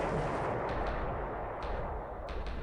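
Anti-aircraft flak fire in a naval battle video game set in the Battle of the Coral Sea: a dense, continuous barrage of booming bursts at steady high loudness, with a few sharper cracks standing out, and no talking.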